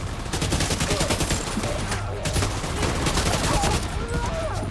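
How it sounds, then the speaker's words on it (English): Flying turret firing in The Division 2, dense rapid gunfire bursts crackling continuously at close range, mixed with other game sounds. "So she got a flying turret."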